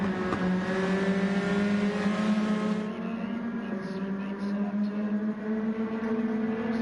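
Mazda Miata race cars at Road Atlanta roaring together in close racing, a steady loud engine drone with shifting pitch as the pack holds speed and the cars run side by side.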